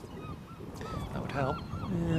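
Seagulls calling at a cricket ground during a one-day cup match, a few short honking squawks rising above crowd ambience, fairly near, with people talking briefly at the same time.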